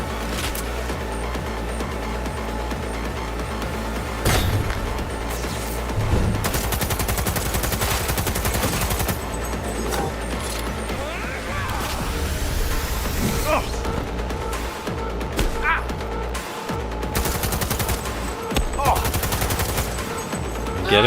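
Gunfire in the video game Cyberpunk 2077, with repeated rapid bursts and single shots cracking loudly over a continuous din of combat and vehicle noise, heard alongside a talking voice.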